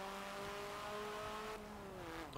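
A Hyundai Veloster engine in Forza Motorsport 7 revs and accelerates with a steady, rising drone, then the pitch sweeps down as the car shifts or lifts off.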